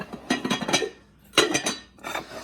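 A bagged set of about ten matching Intaglio Garden Pros CA043 dishes handled together, giving bright ceramic clinks and rattles in three short bursts, fairly close, with no talking.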